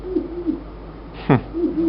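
A human voice imitates an owl's call, giving a few soft low hoots in a short rhythmic series, close and clear.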